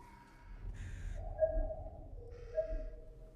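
Two hoarse caws of a crow or raven in the video game The Last of Us Part II, heard over a low ambient rumble and a faint sustained tone.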